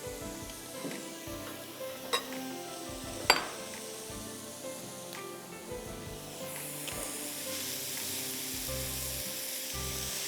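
Grated carrots sautéing in ghee in a pan for carrot halwa, a steady close sizzle with occasional clinks and scrapes of stirring, no voices.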